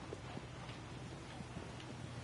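Steady rhythmic hoof clip-clop of a horse trotting through a forest in the video game Shadow of the Colossus, faint and even, with no talking.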